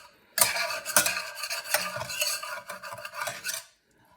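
A utensil scrapes and stirs caramelized sausage off the bottom of a hot pan, a steady close run of rasping strokes with faint sizzle, about three seconds long with quiet before and after.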